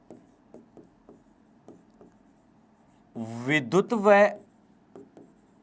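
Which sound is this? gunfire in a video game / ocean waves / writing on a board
writing on a board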